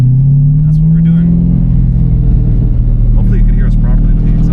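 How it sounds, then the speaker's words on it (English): Loud, close exhaust drone from a car's engine, a deep steady rumble that swells briefly as if revving, with people talking over it. "Hopefully you can hear us properly with the exhaust"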